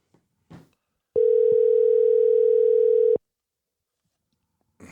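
A telephone tone sounds during a call, one steady sustained beep lasting about two seconds, clear and close, with faint clicks before and after.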